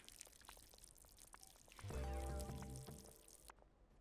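Water poured from a water container in the video game Schedule 1, a short close gurgling pour lasting about a second amid faint background clicks and game ambience.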